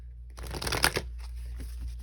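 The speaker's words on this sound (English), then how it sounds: "one more shuffle" A deck of playing cards is shuffled close by in a single quick riffle, a dense burst of flicking that settles into softer rustling as the cards come together.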